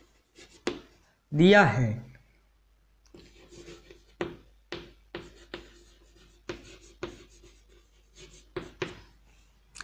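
Pen scratching on paper while writing out a Class 10 trigonometry proof, with a run of short strokes and taps close by, and a brief spoken phrase near the start.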